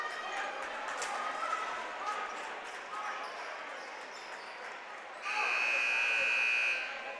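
A basketball timeout timer buzzer blares a sustained loud tone in a high school gym near the end, after several seconds of ball bounces, squeaks and indistinct crowd chatter.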